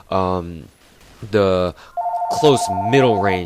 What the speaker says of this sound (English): Sorry, I gotta get the phone.